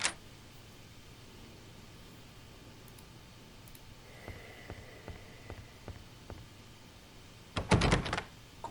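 A locked door rattles without opening in the 2007 PC game Agatha Christie: Evil Under the Sun. A few faint clicks come first, then a short, loud, close rattle near the end.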